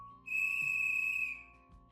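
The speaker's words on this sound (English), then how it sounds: "Logan's whistle shrieked through the campground, startling campers and counselors alike." A lifeguard's whistle at a campground waterfront gives one long, loud, steady shriek lasting about a second, then cuts off, with a low rumble underneath.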